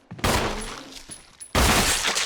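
Handgun shots in Resident Evil REmake: two loud, sharp reports, the first ringing out with a short decaying tail, the second hitting hard at the end of a brief pause.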